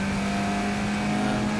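Vintage racing cars, including an MGB GT, an Alfa Romeo and a Corvair, run at the Thompson circuit with a steady loud engine drone and a strong low hum, sounding like cars close by at speed without clear separate pass-bys.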